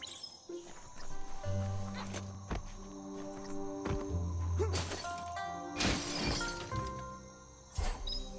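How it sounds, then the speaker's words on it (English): A box being smashed in the video game Biomutant, with sharp cracking and shattering impacts scattered across the clip amid game music and ambient effects. "You shouldn't worry about smashing up the box."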